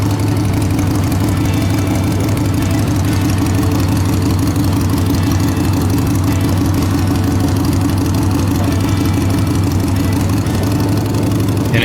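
A motorcycle engine idling close by, a loud, steady, continuous rumble with an even low pulsing throb that holds unchanged throughout, with no talking over it.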